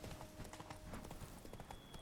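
A horse gallops in The Witcher 3, its steady rapid hoofbeats clattering continuously and fairly quietly, with no talking over them.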